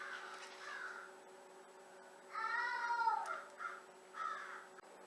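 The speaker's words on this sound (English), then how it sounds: "there's a big crow on my back porch" A large crow caws from a back porch, a few harsh, nasal calls in a short cluster midway through, fairly close over a quiet indoor background.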